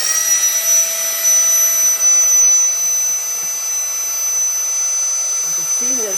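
A VollyC EZY SET pump drones steadily as it sucks the air out of a travel vacuum bag, a loud continuous motor hum with a high whine throughout.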